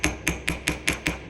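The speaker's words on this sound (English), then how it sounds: "And then I can take my ball peen hammer." Flat face of a ball peen hammer striking a tube rivet, six quick, evenly paced bright metallic taps, close and clear with brief ringing after each blow.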